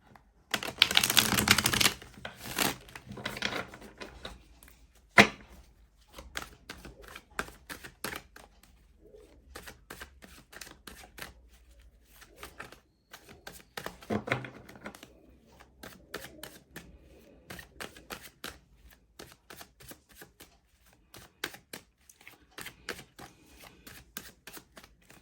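Tarot cards are shuffled in a run of crisp, close riffling bursts and taps, loudest near the start and then recurring intermittently in softer clusters with short pauses between.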